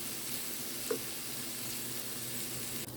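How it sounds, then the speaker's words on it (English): Leftover rice is spread and broken up in a hot pan, giving a steady, even sizzle throughout with one faint scrape of a utensil. "you just want to kind of spread it around the pan and break up the chunks and to get it heated through"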